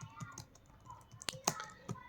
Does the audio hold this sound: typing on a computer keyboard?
yes